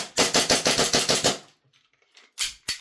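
Rapid semi-automatic shots from an EMG Staccato Perfect 11 2011 Hi-Capa airsoft pistol: a quick, even string of about nine sharp cracks, then a pause and two more separate snappy shots, close and loud.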